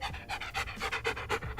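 A dog pants close by in quick, even breaths, about a dozen rhythmic huffs in under two seconds, moderately loud with nothing else over it.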